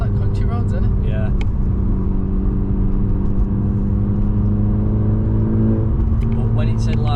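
A Seat Ibiza Cupra engine pulls hard on a country road, a steady loud mid-range drone building under continuous in-car talk.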